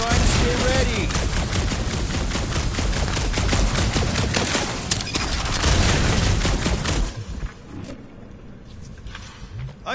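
Rapid blaster fire from Peter Quill's guns in the Guardians of the Galaxy video game on PS5, a dense, loud, continuous burst of shots lasting several seconds before cutting off, leaving quieter background sounds.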